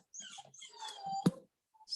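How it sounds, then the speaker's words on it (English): A little beagle puppy whimpers in a few thin, high whines and a brief yelp, close by with no talk. "And there's a little beagle puppy."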